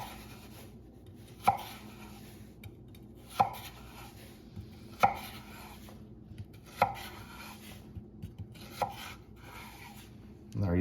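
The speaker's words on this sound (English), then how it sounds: "And then what we're gonna do from here is just cut these into strips." A knife cutting russet potatoes into quarter-inch French fry strips on a board, about seven sharp chops at an uneven pace, each followed by faint scraping; quiet and close with no talking.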